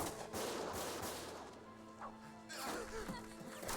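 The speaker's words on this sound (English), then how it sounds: "Gunfire!" Gunfire from the video game Valkyria Chronicles sounds as a dense, noisy barrage of shots and crashing impacts mixed with game sound effects, loud at first and swelling again near the end.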